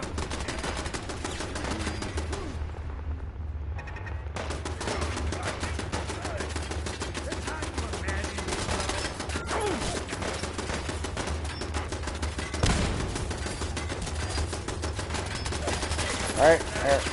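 Gunfire in the video game Fallout 4 crackles in rapid bursts over a steady game soundscape, with a brief lull early on and a few sharper shots near the end, mixed under other game sounds.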